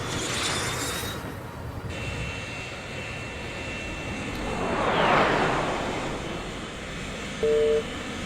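A bomber's engines drone in Air Conflicts Vietnam, a loud sustained aircraft rumble that swells as one plane sweeps past midway, with brief game tones near the end.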